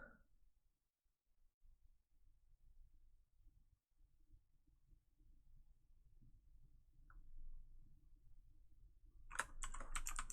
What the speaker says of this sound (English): So I just type